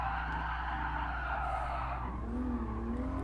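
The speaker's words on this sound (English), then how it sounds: "Little tire squeal, never hurt no one" A Hyundai Genesis in the Gran Turismo Sport racing game lets out a sustained tire squeal and skid over its engine note, loud and close, lasting a few seconds without voices.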